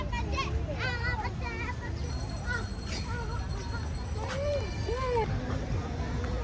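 A crowd of children plays together nearby, high excited voices shouting and chattering over a busy, steady background hubbub.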